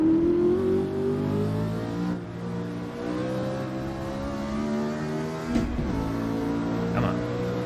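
A car engine in the video game Assetto Corsa revs hard in low gears around a technical circuit, a steady loud harmonic drone that rises and falls with throttle, with a brief sharper blip near the end.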